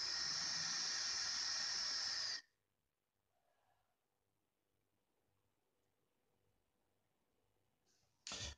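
A Vaporesso Veco tank e-cigarette with a freshly soaked ceramic coil gives a strong steady vapour hiss for about two seconds, then near silence follows before a second short hiss starts at the end.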